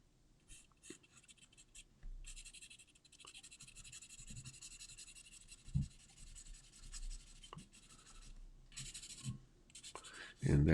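A pencil scratches across paper while sketching the outline of a horse, with steady close strokes of scribbling and short pauses between bursts of lines. A faint tap of the pencil lands near the end.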